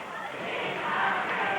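A wrestling arena crowd chanting at the Sheik during a match, a dense roar of many voices that swells gradually, heard at a distance as a continuous mass.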